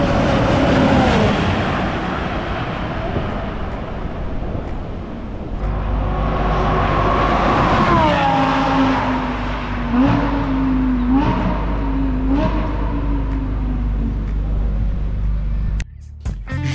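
Supercars such as a Porsche, Lamborghini and McLaren roar past at Interlagos, engines swelling and fading in several loud flybys with pitch sweeping as each car passes.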